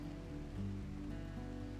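Steady rain falling in Rimworld, a soft continuous patter with low ambient hum beneath, evenly sustained throughout without any voices.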